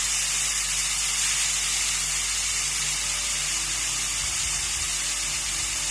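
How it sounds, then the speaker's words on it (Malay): Steam escapes from a lidded cooking pot in a constant, even hiss, close and unbroken from start to finish with no talking. "kita biarkan wap tu terus keluar dan tunggu sebentar ya"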